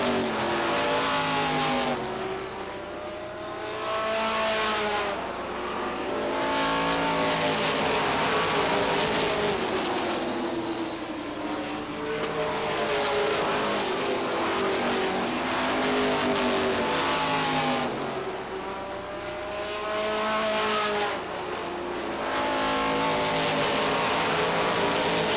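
Stock cars race around Beech Ridge Motor Speedway in 1992, loud engines rising and falling in repeated sweeping passes as the pack laps the track, with a continuous roar between passes.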